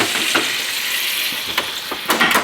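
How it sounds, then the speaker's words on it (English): A stick of frozen butter sizzles and hisses in a hot pan beside thick-cut steaks, a steady bright frying crackle with a few sharp spatters and light pan clinks, no voices. "I'm just gonna throw a quick stick of butter in here. This is frozen butter."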